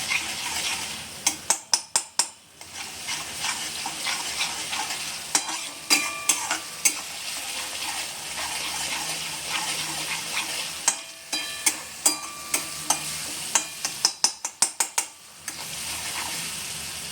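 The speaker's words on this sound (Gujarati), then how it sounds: "થોડું તેલ આવે એટલે આદુ ને લસણ અને લીલા મરચાંની જે આપણે પેસ્ટ છે એને સાતળવાની છે" Ginger, garlic and green chili paste sizzles steadily in oil in a pan, while a spoon stirs and scrapes against the metal in repeated bursts of sharp clinks throughout.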